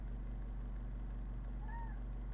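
A house cat gives one short meow that rises and falls in pitch, heard faint and a little distant over a steady low hum in an indoor room.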